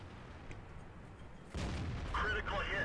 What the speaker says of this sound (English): Gets a beautiful shot on the T-54